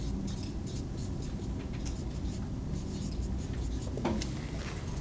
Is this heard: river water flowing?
no